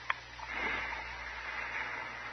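A patient draws in a slow, deep breath during a doctor's examination, a soft, faint airy inhale after a brief click, heard alone in a quiet room.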